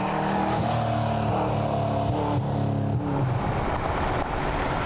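Yellow V8 De Tomaso Pantera competition race car driving on a Targa rally stage in New Zealand, its engine a loud, steady, close roar throughout, rising and easing slightly with no talk.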